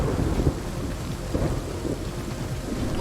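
Kingdom Two Crowns game audio carries a thunderstorm: steady heavy rain with low rolling rumbles of thunder that swell and fade underneath, fairly loud and continuous.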